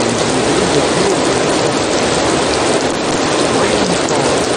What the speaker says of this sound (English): Rain falls